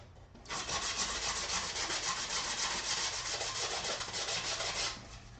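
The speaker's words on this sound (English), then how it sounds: "Let's sand this down a bit" Steady rasping of sandpaper on a small wooden piece for a 1/6 scale diorama, continuous back-and-forth rubbing for about five seconds, close and fairly quiet.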